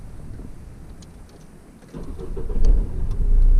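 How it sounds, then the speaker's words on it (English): A car engine starts after a quiet idle stretch: the motor catches with a sudden jump in loud low-end roar, then settles into a steady, close running rumble. "Turn the car on."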